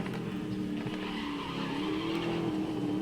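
Race car in the GRID Legends video game sliding through a small drift, engine droning steadily with a rising whine and tire squeal, loud and continuous with no voices.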